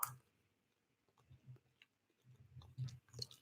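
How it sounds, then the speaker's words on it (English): Chewing food after a bite, with soft irregular mouth sounds and small clicks close to a microphone, fairly quiet and without talk. "let me also take a bite"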